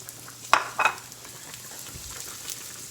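Onion and flour brown in butter in a pan before pork schnitzel gravy, giving a soft low sizzle with two sharp stir or utensil clatters near the start and faint scraping afterward.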